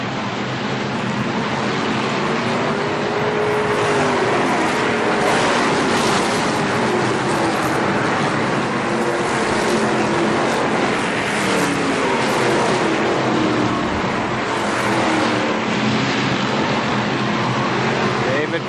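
ARCA SuperCars stock cars racing around the Kil-Kare Speedway oval in 1998, a steady loud roar of several engines with rising and falling pitch as cars pass, while an announcer talks over the race.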